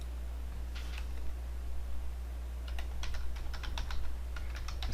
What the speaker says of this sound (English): I cannot type and think at the same time.